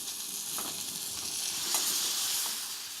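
Butter and cheese browning into a nutty brown butter sizzle steadily in a pan while being basted over the food, a close, soft, continuous crackle with a few brief louder spits.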